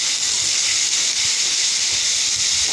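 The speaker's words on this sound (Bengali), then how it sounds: "আর এই তেলের মধ্যে জিরে, শুকনো লঙ্কা ফোড়ন দিয়ে আলু টমেটো দিয়ে তার মধ্যে লবণ হলুদ দিয়ে ভালো করে ভেজে নেবো" Potatoes and tomatoes fry in hot oil with cumin and dried chilli, giving a steady, loud, close sizzling hiss that runs unbroken with no talk.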